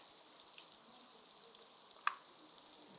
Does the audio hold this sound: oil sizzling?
yes